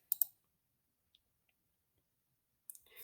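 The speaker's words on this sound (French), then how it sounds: "Et vous avez à cliquer sur Connexion." Two quick computer mouse clicks on a login button, crisp and close, then near silence with a faint tick before another short burst of clicking at the end.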